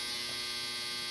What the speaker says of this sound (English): That's my dryer.